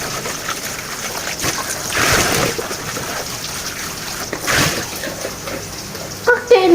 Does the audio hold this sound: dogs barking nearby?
no